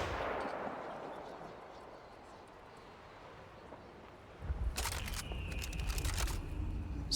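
Tigris double-barrel shotgun fired in the Warframe video game, a sudden loud blast bursting in near the end over a low game rumble, with ringing high tones trailing after it.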